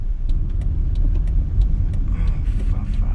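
A car with a troubled, unhappy engine gives a steady low rumble, with sharp ticking clicks repeating through the first half and a rougher, hissing strain near the end.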